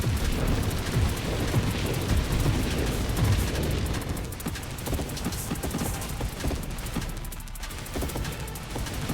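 Crackling electric lightning strikes from the space shooter Nova Drift, a dense, loud, continuous barrage of bursts and crackles with no pauses, thinning slightly near the end.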